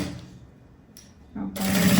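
After a quiet pause, a sewing machine motor starts up and runs steadily while stitching a handmade fabric bag, its whir growing loud and close in the final moments.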